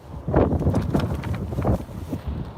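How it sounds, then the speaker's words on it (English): Strong outdoor wind buffets a microphone in loud, irregular low gusts and rumbles, with no talking. "the wind is going to blow me away"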